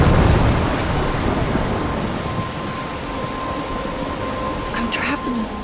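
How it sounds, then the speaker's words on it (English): Thunderstorm with heavy rain in the video game Life Is Strange, a steady dense wash of rainfall with low rumbling thunder rolling underneath, loud and close throughout. "I'm trapped in a storm?"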